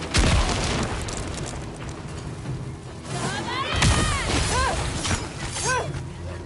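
A bomb explosion in the video game Ghost of Yotei, a loud burst among ongoing combat clatter and crashes, with shouting voices following.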